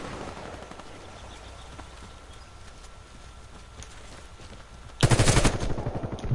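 Automatic gunfire from a video game shooter, Warface: a steady rapid rattle of shots runs throughout, then a louder, sharper burst of fire erupts near the end.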